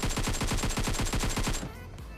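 Rapid automatic gunfire in PUBG Mobile, a loud, steady burst of closely spaced shots lasting over a second before cutting off abruptly.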